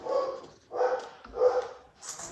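Household dog barking indoors in a sewing room, three moderately loud, slightly muffled barks in an even rhythm with short pauses between them.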